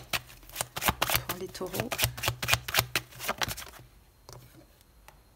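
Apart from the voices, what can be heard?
shuffling tarot cards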